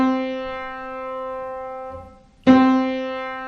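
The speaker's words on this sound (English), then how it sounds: "Okay, that's the C note." A piano sounds a single sustained C note that rings and slowly decays, then is struck again near the end, loud and clear with no talking.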